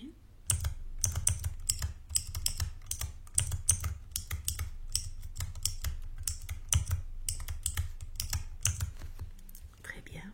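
Rapid, close keyboard typing runs steadily for about ten seconds as a client's details are entered into their file during a reflexology roleplay, soft and crisp with faint whispered speech underneath.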